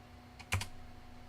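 A brief burst of a few quick keystrokes on a computer keyboard, close and crisp against a low steady hum, with no talking.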